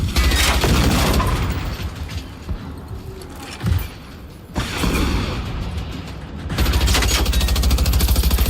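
Rapid gunfire and mechanical clatter in the survival shooter Generation Zero, loud and sustained with a brief lull midway before bursts resume.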